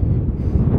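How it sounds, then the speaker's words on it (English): Wind buffets the microphone at a mountain overlook on the Million Dollar Highway near Silverton, a loud, low, rumbling roar that fills the brief moment without any voices. "Guess we'll also see how this mic does with the wind"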